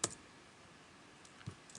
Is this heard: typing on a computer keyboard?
yes